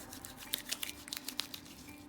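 Dry scrubbing of hands with an exfoliating cube, a series of faint, close, irregular scratchy rasps and soft crinkles with a steady hum underneath.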